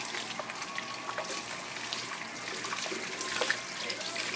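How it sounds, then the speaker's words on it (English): Water running from a kitchen tap while hands are washed after touching raw beef brisket, a steady broadband rush with faint splashing, close and continuous, without talk. "So as soon as I touch the brisket, I'm always washing my hands."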